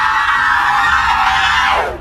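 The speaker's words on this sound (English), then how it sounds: "She began to scream, and her scream filled the entire room, penetrating the walls and echoing in my ears." A woman screams in a horror setting, one sustained, loud, piercing cry that holds steady before trailing off at the end.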